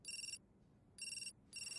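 Three bursts of a phone ringtone sound in a regular pattern at a moderate level with short gaps between them, and no one speaks over them.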